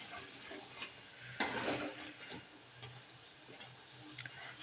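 Onion bajji fritters deep-frying in hot oil give a steady, soft sizzle with a light bubbling crackle that swells briefly midway, heard alone at close range.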